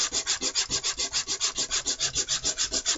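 A wooden knife scale is hand sanded with quick back-and-forth strokes, about twenty close, even, rhythmic rasps at a steady pace with no talking.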